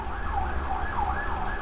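An ambulance siren wails in a steady, rising-and-falling two-tone sweep, loud and continuous with no voices, repeating its cycle about every half second over low road rumble.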